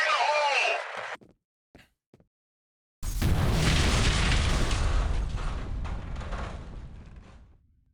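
A grenade blasts in the shooter game F.E.A.R., landing as a sudden loud boom after a brief shouted warning and a moment of near silence, then rumbling and fading out over several seconds.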